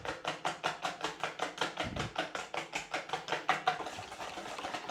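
Custard mix of corn starch and sugar being stirred steadily in a bowl, a quiet, even series of rhythmic scraping strokes, about four per second, continuing for several seconds with no talk.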